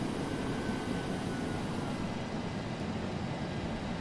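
A DC-8-73F jet taxiing in the FSX flight simulator gives a steady, dense engine roar that holds at an even level throughout, with no voices.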